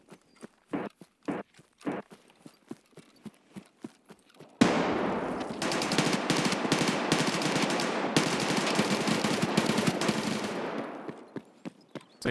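Sustained gunfire from a firefight in a hardcore video game match, rapid bursts and single shots forming a dense clatter that starts abruptly partway through and runs for several seconds after a few scattered footstep-like thumps.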